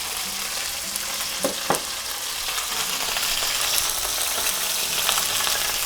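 Beef fries in oil for Mongolian beef, a loud, continuous sizzle with occasional pops and stirring clatter, no voices.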